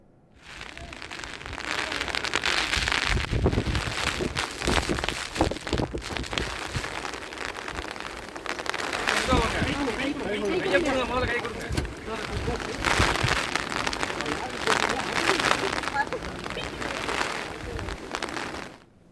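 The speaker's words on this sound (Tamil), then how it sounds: "பலத்த காற்றுடன் கூடிய மிக கனமழை பெய்து வருகிறது" Very heavy rain driven by strong wind in the Nilgiris district pours down as a loud, dense, continuous roar with gusty buffeting, and a voice can be made out faintly underneath at times.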